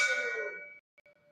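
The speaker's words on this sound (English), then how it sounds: "On today's show, we've actually got a gong." A struck gong rings out with a bright metallic shimmer that decays over about a second, followed by a couple of faint, brief tonal blips after a sudden cut.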